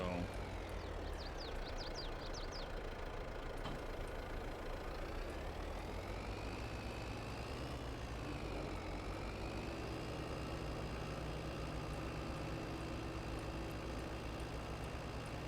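A tractor engine in Farming Simulator 22 runs steadily with a low, even drone and slight pitch drift, faint and continuous, while a person talks quietly over it.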